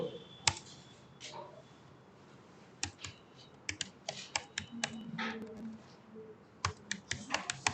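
A computer mouse and keyboard click and clack in scattered bursts, with sharp, close, fairly quiet keystrokes and clicks coming irregularly over a faint room hiss.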